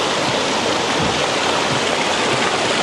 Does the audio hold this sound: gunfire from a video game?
no